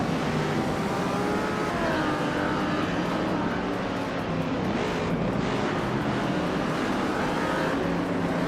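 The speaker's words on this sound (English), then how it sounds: "Pippi Langstrom's car is a 1963 Ferrari 250 LM, a classic racing icon" 1963 Ferrari 250 LM racing car engine roaring continuously, loud and close, with shifting pitch as it climbs through the race field; no speech.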